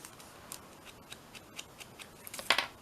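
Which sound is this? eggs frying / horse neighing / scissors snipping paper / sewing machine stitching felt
scissors snipping paper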